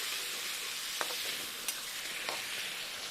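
Pulao rice ingredients cooking together in a pan, a steady sizzle broken by a few soft clinks and stirring scrapes.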